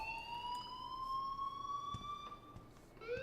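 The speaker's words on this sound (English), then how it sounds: "please turn off that alarm" An electronic alarm in the video game Life Is Strange, steady rising tones with layered harmonics that hold and then shift pitch near the end, faint and continuous with brief knocks underneath.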